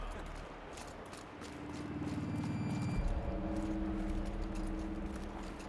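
Footsteps stomping in Horizon Zero Dawn, a steady run of heavy thudding steps that sound almost like hoof clops, close and continuous over an ambient game drone.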